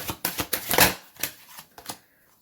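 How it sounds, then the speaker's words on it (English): A deck of Romance Angels Oracle cards riffles and taps through a quick run of crisp, close papery bursts, peaking in a dense flurry before trailing off into a few lighter flicks and quiet. "So let's look at some Romance Angels Oracle cards."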